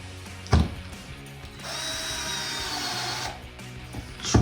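A drill or power driver runs steadily for about two seconds, driving a screw into a Jeep Wrangler JL license plate frame bracket on the front bumper, framed by brief clunks before and after.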